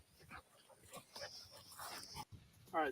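A young red dog making soft whimpers, yips and short barks, faint and close, with someone speaking nearby.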